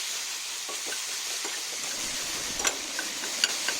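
Ivy gourd chutney ingredients sizzle steadily in a hot pan with salt added, with a few light clicks of a spoon stirring against the metal over the constant frying hiss.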